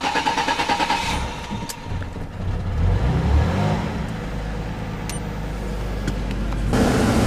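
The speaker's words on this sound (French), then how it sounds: "Allez, on va démarrer la voiture." Car engine starting at the beginning of an early-morning drive, the engine catching and settling into a steady idle, loud and close from inside the vehicle, with no talking.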